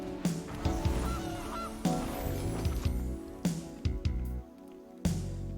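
Loud, repeated goose honks from the video game Magic: The Gathering Arena come in several bursts over lively game music, some stacked close together with short gaps between them.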